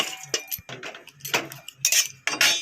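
A metal kadai wok set down on a gas stove, a series of close, sharp metallic clanks and clinks in uneven bursts, no talking.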